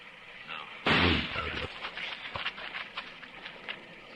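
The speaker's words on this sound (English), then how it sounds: "I'm gonna flip a shot at the tree, Chester" A single loud gunshot rings out in a Western radio drama, a sharp crack followed by a decaying echo and scattered lighter rustles and thuds.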